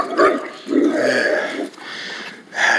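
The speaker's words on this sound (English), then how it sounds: "That dog, ooh, so assertive about his territory." A territorial dog growls in low, rough bursts, three throaty rumbles separated by brief pauses, fairly close and fairly loud, with no talking.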